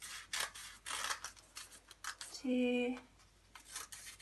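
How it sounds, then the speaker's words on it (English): Scissors snip through paper to shape a paper flower, giving several short crisp cuts in a loose rhythm and a longer sliding squeak of the blades near the middle, while a woman counts aloud over them. "We're going to start at the bottom edge and cut up the way towards the point, but we don't want to cut through the edge"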